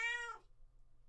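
A pet cat gives a single clear, drawn-out meow, close and fairly loud, then quiet room hum follows.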